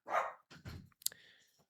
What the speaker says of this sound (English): Sorry, my dog's going crazy right now.